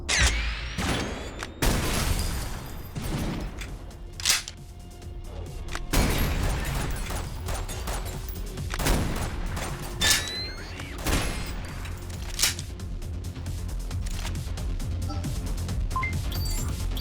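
Shotgun blasts from a video game, several heavy booms spaced a few seconds apart with mechanical clacks and creaks of pumping and reloading between them, amid a dense game mix with occasional talk.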